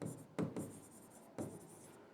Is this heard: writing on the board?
yes